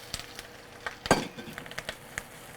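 Shrimp shells fry in a pan with a little oil, sizzling softly with scattered clinks and taps as they are stirred, one louder scrape near the middle.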